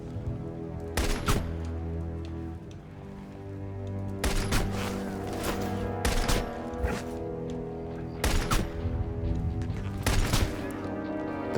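Sharp, widely spaced sniper rifle shots in the 2009 Xbox 360 game Wanted: Weapons of Fate, each crack loud and distinct over a steady droning game soundtrack, coming in small clusters.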